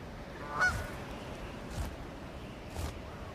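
A single goose on remote ice fields honks three times at roughly one-second intervals, the first call clearest and the later ones fainter, heard from a distance over steady wind-like hiss.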